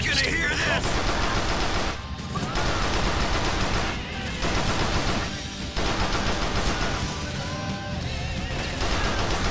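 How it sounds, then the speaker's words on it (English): Loud, dense gunfire from a video game shooter, rapid automatic bursts broken by short gaps and crashing impacts, filling the whole stretch with a few brief lulls. "precision shooting in this game is hard"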